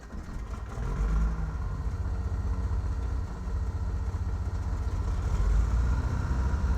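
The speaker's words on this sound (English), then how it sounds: "So we're going to go ahead and start the engines up once more." Aircraft engines start up in Flight Simulator X, a steady low mechanical drone that rises slightly after the first second and holds as an even, continuous hum with no talking.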